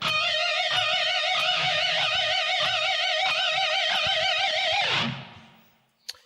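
A sustained electric guitar note at fret 21 on the G string with wide, fast vibrato, downpicked repeatedly at a steady pulse, then fading away; a small click at the end.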